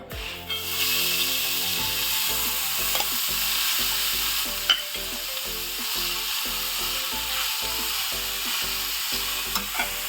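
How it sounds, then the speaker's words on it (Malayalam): Grated carrots frying in hot ghee in a pan while being stirred, a steady close sizzle with rhythmic scraping strokes of the spoon throughout. "അത് ചൂടായി കഴിയുന്നുണ്ടേ അതിനകത്തോട്ട് നമുക്ക് ക്യാരറ്റ് ഇട്ട് കൊടുക്കാം."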